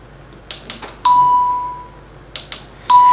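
Two bright electronic ding tones from a sewing machine during quilting, each a clear chime with a lingering tail, the first around one second in and the second near the end, separated by softer clicks and handling noises.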